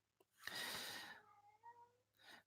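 A cat cries with a drawn-out, wavering meow that tails off into thin tones, followed by a shorter second cry a moment later, close by and without any talk.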